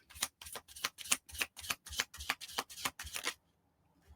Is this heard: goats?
no